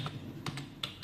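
Keys on a laptop keyboard being pressed, a few crisp separate clicks in quick succession, close and fairly quiet.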